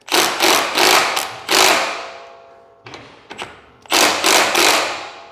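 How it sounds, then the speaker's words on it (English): An impact gun tightens a bolt on an Exmark Staris stand-on mower in loud, close bursts of rattling hammering, with several pulses of about a second each and brief ratchety taps in the pauses between them. "And then grab your impact and just tighten it."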